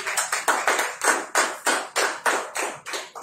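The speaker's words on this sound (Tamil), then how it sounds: "கையை தட்டு." A church congregation at a Tamil Christian service claps hands in unison, about a dozen sharp, loud claps in a steady rhythm with no talking.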